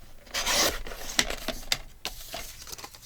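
A paper trimmer slices unwanted edges off a paper journal spot, giving dry rasping scrapes and rubbing strokes of uneven length, close and fairly loud, with no voices.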